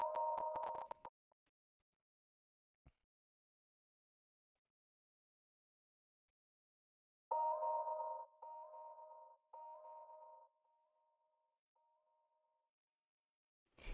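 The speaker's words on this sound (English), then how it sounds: "just playing one note with like hella delay on it" A single A-sharp guitar note drenched in heavy delay and flanger rings out, cuts off, then returns as a string of fading repeats that echo away into silence, with no one talking.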